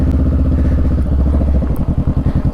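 Motorcycle engine close by, a loud throbbing rumble that slows into a lumpy, pulsing idle as the bike comes to a stop, heard alone without talk.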